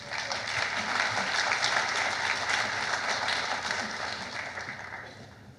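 An audience at the Getty Research Institute bursts into sustained applause welcoming a speaker to the stage, a dense, even wash of clapping that slowly tapers off toward the end.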